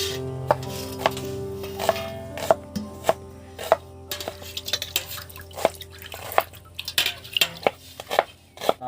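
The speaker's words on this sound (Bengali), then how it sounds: "পেঁয়াজগুলো কাটা হয়ে গেছে, এবার রেখে দিচ্ছি" A knife chops onions on a board while a mutton curry with potatoes is being prepared, giving a close, steady series of about a dozen sharp, crisp strikes with light clatter between them.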